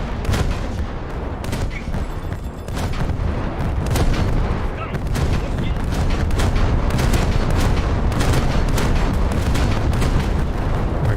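Two frigates in a naval video game fire automatic 76mm guns in a steady stream of booming rounds, loud and close, with the shots overlapping continuously throughout.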